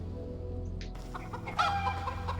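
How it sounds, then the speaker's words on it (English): A chicken clucks in the video game Arx Fatalis, a few short clucks heard faintly over a constant low hum of game ambience. "There's the chicken."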